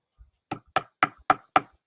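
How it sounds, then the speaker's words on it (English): Knuckles rap on a door in a short rhythmic pattern: one soft tap followed by five sharp, evenly spaced knocks, close and clear in an otherwise quiet room. "Knock out your best rhythm on my door."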